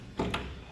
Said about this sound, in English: Just easily push that up and open your door.